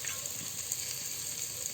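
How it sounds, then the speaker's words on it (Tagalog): Sliced tomatoes frying in a pan for a thick mung bean stew with pork and vegetables, giving a steady, close, even sizzle with no talking. "Ilagay na rin natin ang hiniwang kamatis."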